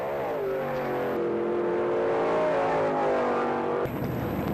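A drag race car revs in the pits at a 1960s drag racing event, a loud steady engine drone rising in pitch and then cutting to a rougher idle near the end, with no talk.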